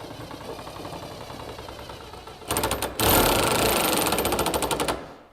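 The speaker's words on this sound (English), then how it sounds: "I'm going to reverse this on my drill and bring this back up." A power drill runs in reverse in a camper trailer, a loud buzzing, rapidly pulsing whir that starts up, briefly stops, then runs again steadily before cutting out.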